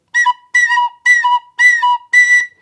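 A tin whistle sounds a B note in five clear, separate blown tones, each about half a second long with brief gaps between them, close and loud with a bright, steady pitch and no talking.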